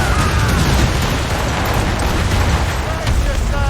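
Ship cannons fire in rapid succession during a naval battle in Assassin's Creed Rogue, a dense, continuous roar of booms and blasts with crew voices shouting over the din.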